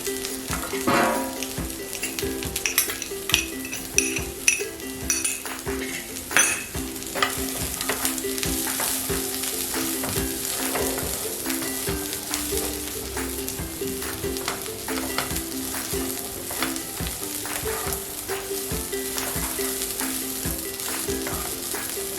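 Sweet corn frying in a pan gives a steady, close, bright sizzle, with frequent stirring clatters and scrapes breaking through over the whole stretch.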